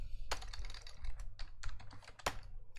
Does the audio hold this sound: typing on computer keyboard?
yes